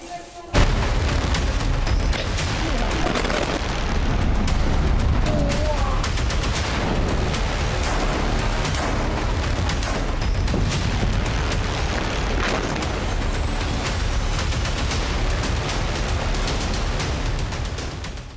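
Continuous heavy booms and blasts from an Israeli strike destroying a large Hezbollah tunnel in Lebanon, reportedly using 400 tons of explosives, rumbling loud and dense with sharp gunfire-like cracks throughout.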